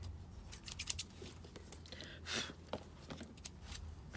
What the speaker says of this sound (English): Probably cut some of this fabric off the top.